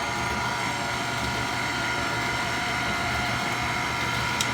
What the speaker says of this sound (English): And we're going to turn the mixer on low.